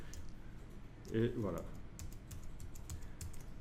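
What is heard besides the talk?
computer keyboard keys pressed for a shortcut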